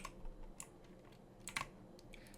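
Quiet, close computer-keyboard typing, a loose run of light clicks with short gaps as link text is entered.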